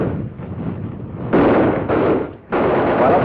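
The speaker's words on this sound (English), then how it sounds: "I had the squad lay covering fire on Building 5" A squad lays covering rifle and machine-gun fire on a building during a 1953 platoon attack on a built-up area: loud overlapping bursts of gunfire and booms in heavy surges, with a brief lull before the firing resumes.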